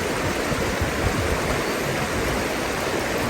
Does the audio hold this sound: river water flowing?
yes